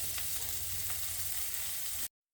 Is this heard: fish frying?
yes